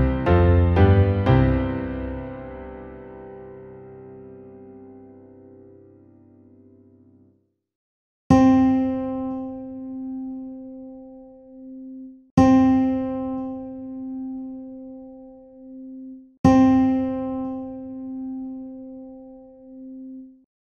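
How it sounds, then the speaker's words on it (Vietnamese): Isolated musical pitches for ear training: a chord of notes fades out first, then the single note C sounds three times, each tone ringing clear and alone before fading. "Cao độ vừa nghe là nốt. Đô."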